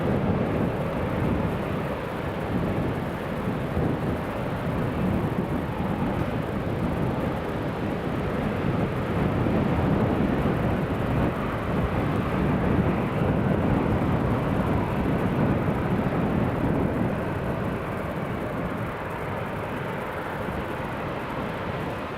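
A Boeing 737 MAX 9 airliner lands at Newcastle International Airport, a broad, loud, steady roar of engine and rushing air that holds throughout with slight swells.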